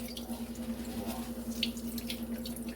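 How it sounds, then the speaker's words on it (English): Liquid pressed from grated cassava through a kitchen cloth falls in a faint, steady trickle and drip, close by over a low constant hum. "I'm going to squeeze. I'm going to, like when you wring clothes, extract that liquid"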